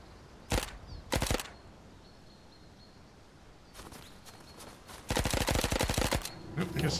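Video game gunfire aimed at a propane tank: two sharp single shots, then a pause, then a longer run of rapid automatic bursts, loud and close over faint background ambience.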